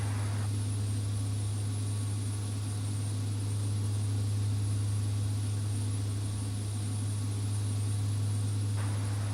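A Beechcraft C90 turboprop takes off from runway 23 near St. Barts in X-Plane 11, its engine drone a steady, unbroken hum that stays fairly quiet and even throughout.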